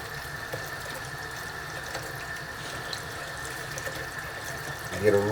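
Tap water running steadily into a sink while hands are washed and rinsed, a constant close rush with a faint tonal hum, louder splashing just at the end.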